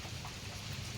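Heavy rain pours steadily, a dense even hiss of drops close by that holds at a constant level throughout with no voices.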